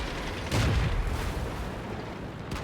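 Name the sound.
tank cannon fire in the video game World of Tanks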